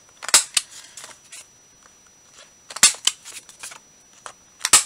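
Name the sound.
corner rounder punch cutting paper corners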